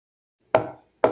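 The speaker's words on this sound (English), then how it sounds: "I gotta knock." Two sharp knocks land on the wooden door of a small two-storey apartment building, spaced about half a second apart, each a crisp close rap with a short decaying tail and silence around them.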